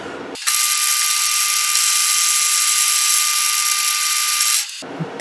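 A lathe cuts a new thread during restoration of a Stanley 60 1/2 block plane, a loud, steady high-pitched whine and buzz of the cut holding evenly for about four seconds before stopping abruptly.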